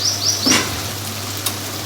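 Chicken and tomatoes frying in a pan for a kaddu gosht dish, a steady close sizzle with a faint squeak and a single small pop, under a low background hum and without any talking.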